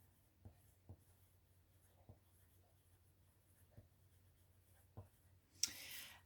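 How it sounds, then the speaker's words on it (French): Soft pastel or pencil strokes scratch across paper by hand, about six faint, separate taps and scrapes spaced irregularly in a quiet room, ending in a brief louder rustle. "C'est pour ça que j'écris un petit peu maladroitement."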